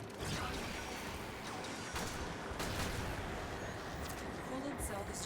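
Rapid gunfire in a video game as coolant cells are shot, a dense, loud and continuous rattle of shots and mechanical clatter that fills the whole stretch.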